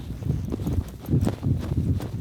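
Horse hooves clip-clopping at a walk during horseback riding on the Turan maral deer farm in Tuva, a close, uneven series of thuddy steps with no talk.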